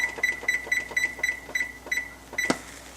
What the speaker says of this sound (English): Get the timer on